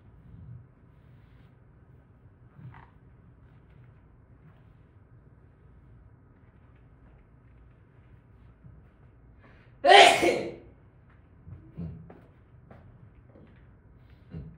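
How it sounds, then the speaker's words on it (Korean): A single loud, sharp sneeze bursts out close to a hand microphone during a quiet lecture on sociology, standing alone against faint room noise. "평소에 쓰던 마이크를 쓰면은 재채기 소리가 다 들어가요"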